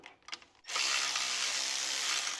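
Electric ratchet spinning on the starter bolts of a John Deere S100 series lawn tractor that will not start; a few short clicks, then a loud steady whirring buzz that runs without a break.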